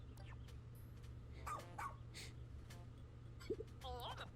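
Rescue pup Ochi barking in Pikmin 4, a few short yips and barks spread across the clip over a steady low hum, with faint voice-like sounds near the end.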